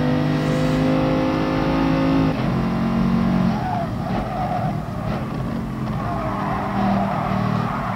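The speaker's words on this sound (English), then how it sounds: "So we're in the big, powerful Vision Merc here." Mercedes Vision GT race car in GT Sport, a loud high-revving engine with a gear change partway through and tyre squeal as it corners, continuous and close.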